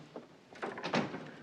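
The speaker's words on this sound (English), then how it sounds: "Shut the door." A door being shut in an office, heard as a soft wooden thud and clatter of the latch, moderately close, followed by quiet shuffling with no speech.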